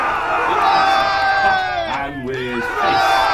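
A crowd of elves raises a loud, sustained cheer with overlapping shouting voices, a roaring group sound effect in a children's fairytale.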